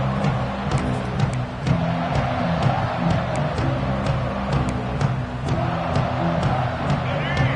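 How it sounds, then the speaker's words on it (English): A dense, steady roar of a large stadium crowd in a Madden football video game, loud and constant throughout, with a commentator's voice talking faintly underneath. "this crowd is fired up. Listen to this noise here."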